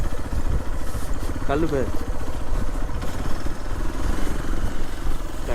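A motorcycle engine runs steadily and close by on a hill road around Vagamon, its rumble continuous beneath people talking.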